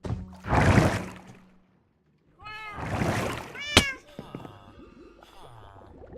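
Cats meowing in a bedroom in Minecraft: a few distinct, rising-and-falling meows come close and clear between softer bumps and a brief silent gap, with a sharp click partway through.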